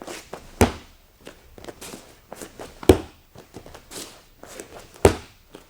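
A foot stomping on a judo mat during a harai goshi drill, three heavy slaps spaced about two seconds apart, with lighter shuffling footsteps and mat taps in between.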